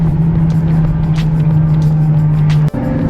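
Ferrari F12 supercar driving with a loud, steady engine drone throughout, its tires slipping briefly on a slick surface, followed by a sharp momentary dropout near the end.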